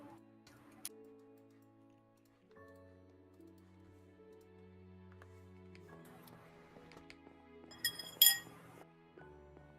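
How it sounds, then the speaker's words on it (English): Plates and cutlery clink faintly during a meal, a few scattered taps and one brighter rattle of clinks near the end over quiet background tones. "I can hear my stuff clinking"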